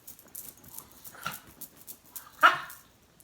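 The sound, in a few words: restless little dog barking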